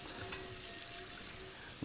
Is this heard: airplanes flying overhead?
no